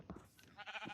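A sheep in Minecraft gives a short, faint bleat, a single brief wavering cry.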